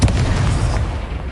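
An Incendio fire spell cast in Hogwarts Legacy, a loud close blast with a heavy booming onset that rumbles and fades over about a second.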